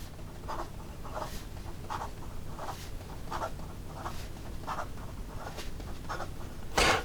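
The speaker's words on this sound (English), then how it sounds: "In regard to some fast writing" A Montblanc Walt Disney fountain pen scratching quickly across paper, a soft rhythmic scritch of short strokes repeating about every half second, close and steady, with a slightly sharper stroke near the end.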